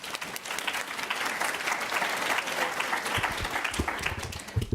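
An audience at a conference breakout session applauds steadily to welcome a speaker named Elizabeth. The clapping is dense and sustained for several seconds, heard from within the room, with a few louder claps near the end.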